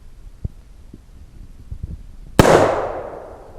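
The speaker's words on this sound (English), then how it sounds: "when it fires, keep the trigger to the rear" A single sharp, loud AR-15 rifle shot at an outdoor range, with a ringing echo that decays after the crack and faint handling noises before it.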